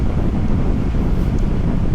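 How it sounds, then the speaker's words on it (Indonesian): Strong headwind roars steadily into the microphone on a windy stretch of road in Manado, a loud, continuous low rumble with no break, with no other sounds. "Angin yang melawan dari depan ini sini spot angin kenceng nih"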